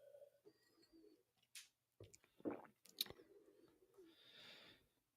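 Water is swallowed close to a microphone in a few soft, wet gulps and throat clicks, separated by quiet gaps, with a faint breathy sound near the end.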